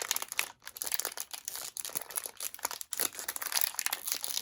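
A Moyu RS2 M 2020 2x2 cube box slid out of its outer cardboard box, giving a close, continuous papery crinkling and scraping with brief pauses.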